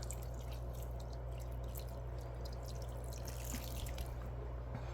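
Water dripping from the bottom of a plant pot, quick scattered drips and a light trickle, faint and close over a steady low hum.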